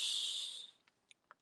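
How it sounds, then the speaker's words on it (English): A person takes one deep breath in, a close, steady airy hiss that fades out within a second, followed by a few faint small clicks. "I'll tell you what I do when I'm breathing in deeply"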